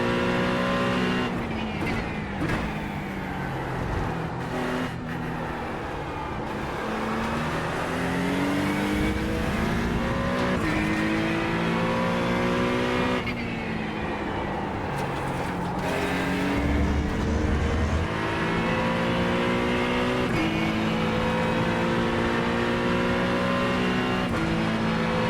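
An Acura GT3 race car engine in the iRacing video game screams up through the revs and drops with each gear shift, a loud continuous drone of repeated rising pulls with brief tire noise.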